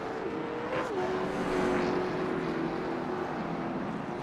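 Race cars in the iRacing sim at Nashville Fairgrounds Speedway roll behind the pace car on the back stretch, a steady mid-distance engine drone with a sustained tonal whine holding throughout, no talk over it.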